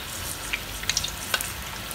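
Mirchi vada pakoras, potato-masala-stuffed chilies in batter, frying in hot oil with a steady low sizzle and a few sharp crackles and pops, no talking.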